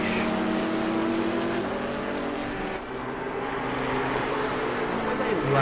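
McLaren race car in a PC racing game roaring past with a sustained engine drone, pitch sweeping slightly as it passes, loud and continuous with some background talk.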